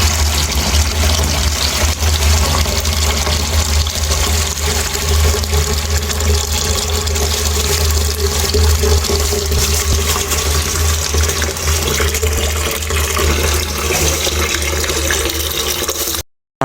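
Water gushes steadily and loudly into a chicken drinker in a henhouse where Fayoumi chickens are kept, a continuous close splashing fill with no pauses.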